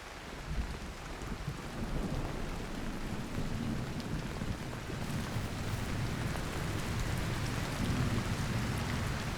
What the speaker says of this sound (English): this is a full-on storm with lightning and everything